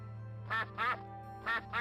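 Duck quacking in the farming game My Time at Portia, four nasal quacks in two pairs, close and clear over a steady low background hum of game music.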